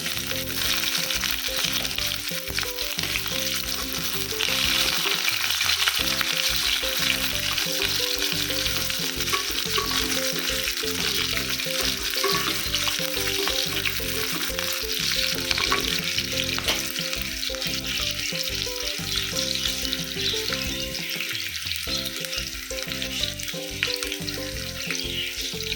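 Chopped onions go into hot oil with whole cumin seeds that have browned, setting off a steady, loud sizzle and crackle of frying, stirred now and then. No voices are heard.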